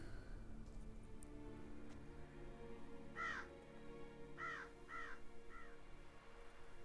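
Crows cawing in the video game The Witcher 3, a handful of distinct harsh caws in two close bursts over a low steady ambient hum, fairly near, no talking.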